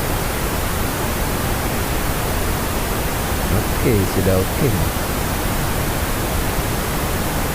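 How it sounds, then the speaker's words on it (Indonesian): Steady pink noise test signal generated by a mixer, a constant full-band hiss running throughout, with a brief spoken remark partway through. "Terus tekan tombol pink noise."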